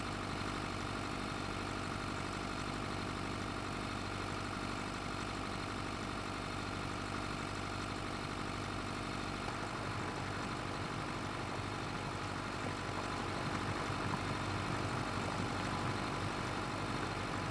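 A tractor engine idling steadily for the whole stretch, a dense continuous rumble with broad noise, fairly quiet, and no voices.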